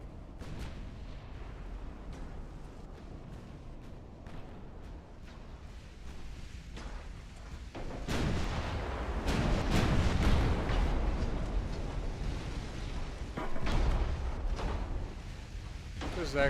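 Heavy cruiser's 10-inch guns booming in a naval warfare game, a swelling roar of blasts and rumble that grows loud midway and again near the end, layered under steady background noise.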